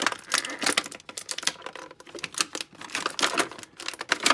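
Rapid crackling snaps and clicks as plastic bands holding a Masters of the Universe Masterverse Stinkor action figure are ripped out of its packaging, close and irregular, with no talk.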